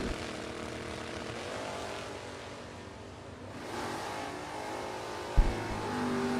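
Drag racing cars, including a 1968 Dodge Coronet, at a bracket racing event: loud sustained engine roar that fades slightly then swells again, with a sharp bang near the end.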